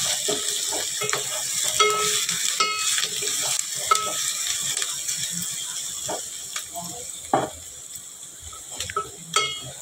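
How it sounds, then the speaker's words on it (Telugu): Onions, green chillies and curry leaves fry in oil, making a continuous crackling sizzle broken by repeated scraping stirs of a utensil, close and fairly loud, with some faint background voice. "ఫస్ట్ ఆయిల్ వేసి తర్వాత ఉల్లిపాయ, పచ్చిమిరపకాయలు, కరివేపాకు వేసి బాగా వేపుకోవాలి."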